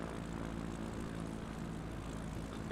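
A propeller airplane engine drones steadily in a flight simulator game during a go-around on a bush flight over Finland, a loud continuous hum with no voices.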